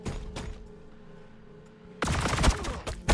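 Gunfire bursts from a Warhammer 40,000: Battlesector battle between Astra Militarum and Tau forces. A short loud volley opens, then a quiet lull, then a denser, heavier barrage of shots.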